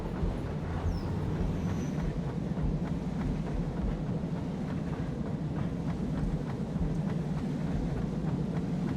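A locomotive rolls along track in the video game Satisfactory, a steady low rumble with a rhythmic clatter of wheels over rail joints, continuous and fairly loud, with no voices.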